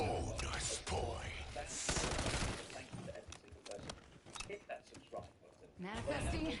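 Rapid automatic shotgun blasts firing incendiary rounds in a first-person shooter game, loud repeated bursts with crackling bursts, mixed with talking over the action.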